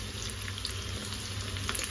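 Lightly coated chicken pakora crackles and sizzles steadily in hot oil, with a dense, close bubbling hiss and no voices.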